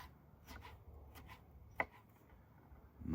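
A knife chopping mango into small pieces for a jerk shrimp dish: a few soft, sparse taps on a board, quiet and close, with one sharper knock among them.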